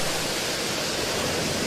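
Waves wash over small bean-sized pebbles on Kongdol beach, Baengnyeong Island, a steady broadband rush of surf and rolling stones, close and continuous with no voices.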